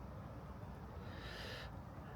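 Soft, low cooing of a pigeon near the old Coventry Cathedral ruins, a faint murmuring call under steady outdoor background noise.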